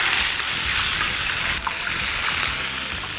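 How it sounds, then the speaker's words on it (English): Oxtail and shank searing in hot olive oil, a steady loud hiss and crackle close up with no talking. "Now we're gonna sear."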